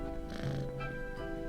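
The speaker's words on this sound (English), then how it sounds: "Creepy demon kitty." A demon cat in the game Death and Taxes purrs softly and steadily, with a brief cat vocal tone over a sustained musical background.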